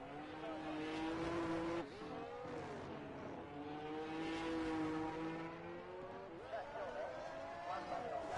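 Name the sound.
race car engine in a racing video game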